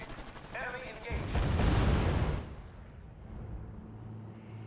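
Gunfire from a squad in the WWII strategy game R.U.S.E., in an Operation Market Garden mission: a loud, dense burst of rattling shots that swells for about a second, then fades into a low rumbling battlefield background.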